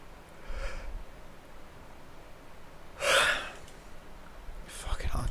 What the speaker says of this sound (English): I can't stop yawning